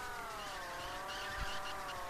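An in-game car in ChoroQ on PS2 spins out, its engine whine holding a steady, slightly sliding pitch over a constant rumble, with a faint scraping squeal. The sound stays close and loud throughout, with no voices.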